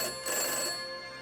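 An old, yellowed rotary telephone on a bedside nightstand rings close and loud, its bright metallic bell sustaining through a single burst of about a second that then fades slightly, with no voices.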